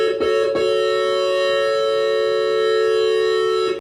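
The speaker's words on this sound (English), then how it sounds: "we have one square wave, and we can add a second square wave if we want to" A Korg Minilogue XD analog synthesizer holds a steady, buzzy drone from two square-wave oscillators, loud and continuous with rich harmonics, after a couple of brief clicks at the start, with no voices.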